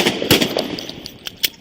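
Police officers fire several sharp gunshots at a man holding a knife on Charlotte Avenue in Nashville. Loud, close cracks come in an uneven burst over less than two seconds, with quieter pops between them.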